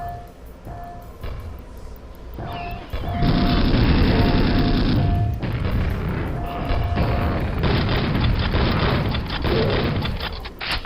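Heavy booming gunfire from a replacement for the standard gun in Quake, a dense run of loud blasts and crashing impacts that starts about three seconds in and keeps pounding, with game effects mixed in and no talk.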